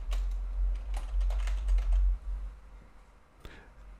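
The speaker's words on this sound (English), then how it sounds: "I can press F12 on my keyboard and just call this cover letter." Key presses on a computer keyboard click in a quick scattered burst, fairly near, over a low steady hum, then thin out to a single late tap.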